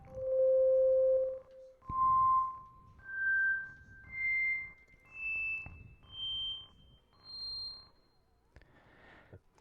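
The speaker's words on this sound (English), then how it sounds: "if I just hold down a C note and then I turn these on one by one, you can hear there's different harmonics happening here." A Yamaha CK keyboard holds a C note on its Hammond organ setting as the drawbars are pulled out one by one, adding harmonics. The result is a soft tone that brightens in several stepwise stages with short gaps between them.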